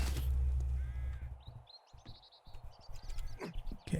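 Buzzards in the survival game 7 Days to Die give harsh cawing calls in a series of repeated squawks, moderately close, over low rumbling game ambience.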